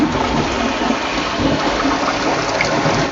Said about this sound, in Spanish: Esto es para descargar la taza.